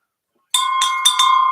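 A bright bell rings four times in quick succession, clear metallic strikes with sustained ringing tones, close and loud with no voices over it.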